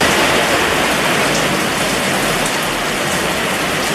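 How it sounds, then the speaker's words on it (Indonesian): Rain falls outdoors near a motorcycle being fitted with a Nui Racing monoshock, a steady dense hiss that stays loud and even throughout with no voices. "Sudah mulai turun hujan,"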